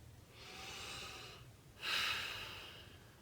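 Slow, close breathing during an EFT tapping session: one long airy inhale, then a stronger, louder exhale, quiet and alone.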